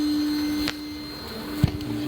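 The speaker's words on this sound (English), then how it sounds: "I'm going to vacuum these ones that you see up here" A vacuum sucks bees from a hive tucked in house eaves, a steady droning whine with a constant high tone running throughout, interrupted by a couple of brief knocks and thumps near the nozzle.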